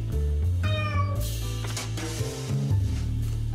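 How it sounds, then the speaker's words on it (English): A cat meows repeatedly in the video game Lone Survivor, with several drawn-out, rising and falling calls heard close and clear over a low, steady game backdrop. "This cat's so hungry."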